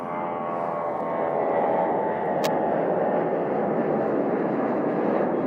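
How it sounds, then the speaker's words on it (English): Airplanes fly overhead in a steady, loud, rumbling roar that holds unbroken throughout, with no voices. "seeing airplanes as they fly all over the place"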